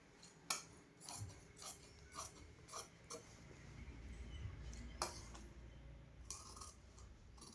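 Scissors cutting blouse fabric for a katori-style blouse, giving a series of sharp snipping clicks spaced about half a second apart, close and fairly quiet, followed by softer handling rustle.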